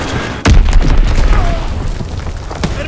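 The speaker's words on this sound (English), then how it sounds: "Dropping Azon bomb." A heavy Azon bomb explosion in Call of Duty WWII lands as a sudden loud boom, followed by a long rumbling roll and scattered crackling debris that fade over a few seconds.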